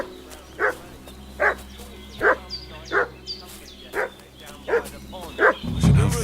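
A dog in Kingdom Come Deliverance 2 barks repeatedly at a steady pace, about ten sharp barks over a constant ambient hum, ending with a louder rumbling burst.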